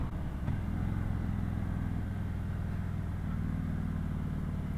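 A 2018 Harley-Davidson Road King with a Milwaukee 8 engine, six-speed and stock pipes runs with a steady, fairly subdued low rumble, heard continuously while riding.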